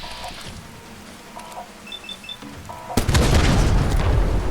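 Shotgun blast in a post-apocalyptic survival game, a single loud booming shot that erupts abruptly and leaves a dense noisy tail, preceded by quieter game ambience with faint chirps.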